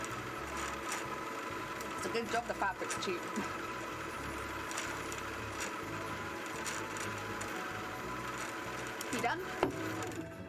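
A sewing machine stitches steadily through cheap fabric doing free-motion embroidery of tail frills, its continuous mechanical whir running throughout with small irregular clicks, while people talk briefly over it.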